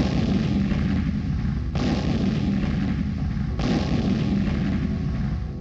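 Two heavy booming blasts, atomic-bomb style, land about two seconds apart over a constant loud rumble, each arriving as a sudden broad crack that melts back into the roar.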